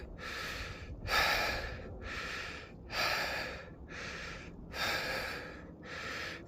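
Heavy, labored breathing from a hiker climbing steeply uphill at Jacob's Ladder on the Appalachian Trail, with steady loud gasping inhales and exhales in a regular rhythm, close to the microphone and with no talking.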